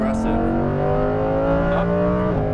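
A Lamborghini Huracan Performante's engine pulls hard on a track straightaway, its tone climbing steadily through the revs with a brief dip at a gear change, loud and close, with an instructor's voice running alongside.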